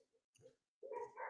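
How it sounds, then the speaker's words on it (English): Several dogs in a home bark in the background, a few quick, faint yaps followed by a louder, closer run of excited barks. "I have dogs. You probably hear them in the background."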